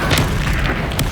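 Confringo blasting spell explosion in Hogwarts Legacy, a short booming burst that sits close and loud and fades within about a second.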